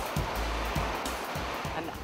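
Artificial waves rolling through a wave pool in Yokohama, a steady loud churning wash with recurring low surges roughly every half second, filling the whole stretch without pause.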